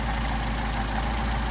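A Mercedes 190SL engine with rebuilt Solex carburetors idles steadily at close range, a continuous low rumble with no talk over it.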